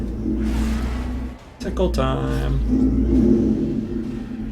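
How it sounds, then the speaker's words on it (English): A garbage truck rumbles right outside a window, its engine droning steadily through the whole stretch with a brief dip partway. Someone talks over it. "That's a garbage truck right outside my window."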